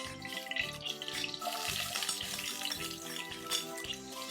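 Onion frying in ghee in a pot, a steady crackling sizzle with bubbling and light stirring noises throughout, close and fairly even in level.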